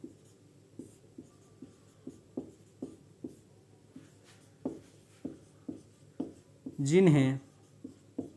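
Chalk or marker tapping and scratching on a classroom board, a steady series of short strokes about every half second, close by, with a brief spoken word near the end.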